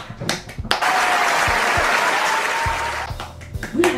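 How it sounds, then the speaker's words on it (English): Applause breaks out in a small group, a dense burst of clapping that holds steady for a few seconds before thinning out, with brief speech and noise at the edges. "We had a clap for Crissa though."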